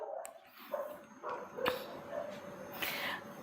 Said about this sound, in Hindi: मेरे मोहल्ले के सारे कुत्ते पागल हो गए हैं,